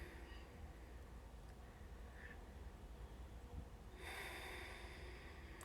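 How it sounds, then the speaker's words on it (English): Slow breaths drawn in and out through the nose by someone seated for guided meditation, a soft airy hiss running close and steady, then a fuller, louder nasal rush near the end, with no talking. "breathe in and out of your nose"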